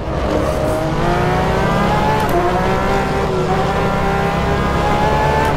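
A Porsche 911 RSR GTE race car screams around the Portimao circuit in rFactor 2, its engine loud and continuous at high revs with rising gear sweeps and brief shifts, close and alone.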